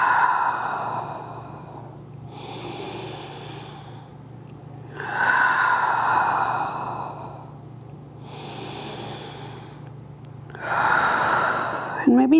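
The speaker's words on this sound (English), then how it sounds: "we're going to take 3 breaths. In through the nose," Slow, deliberate breaths during a gentle yoga practice, inhaling through the nose and exhaling through the mouth, several long airy cycles close to the microphone with steady pauses between them.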